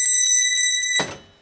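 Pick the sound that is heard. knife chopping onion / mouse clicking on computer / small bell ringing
small bell ringing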